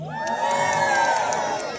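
A large crowd cheers and whoops loudly and continuously at a public iftar gathering in Trafalgar Square, London, with children's shouts mixed into the sustained roar.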